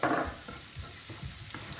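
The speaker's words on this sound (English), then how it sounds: "To that oil, we're going to add the garlic." Garlic frying in hot oil for tarka dal, a steady close crackling sizzle with a brief louder hiss at the start, continuing without any talk.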